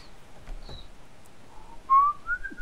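A person whistles a few short, wavering notes, ending in a longer rising-and-falling tone, fairly close and with no talking.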